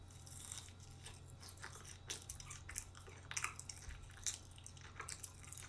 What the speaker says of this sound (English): Open mouth chewing soft taco, fast and sloppy?